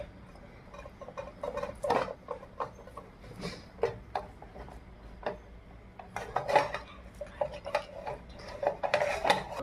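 A metal spoon spreads tomato sauce over a rolled flatbread, giving repeated light clinks and scrapes at an uneven rhythm, close and clear, with no talking.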